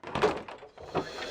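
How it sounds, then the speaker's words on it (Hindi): Banging on a door in a tense crime-drama scene, with two rough bursts of thumping about half a second apart, close and fairly loud. "दरवाजा खोलो, अंजलि दरवाजा खोलो।"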